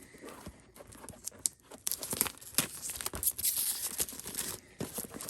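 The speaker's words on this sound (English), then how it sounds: "let's go ahead and cut this open" A knife slices through the cardboard of a box of 5.25-inch floppy disks, giving a run of close, irregular tearing, scraping and crinkling sounds with no talk.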